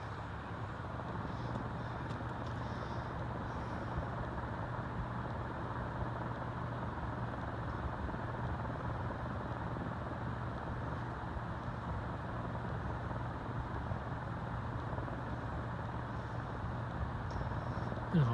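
A 36-inch cast Dayton industrial ceiling fan running on low with a slight wobble gives off a steady, low motor hum with a soft airy rush. The sound is constant and moderately quiet from start to finish.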